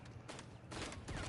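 A burst-fire gun in Valorant: quick clusters of sharp shots, one short burst followed by a longer run of rapid pops, fairly close and moderately loud.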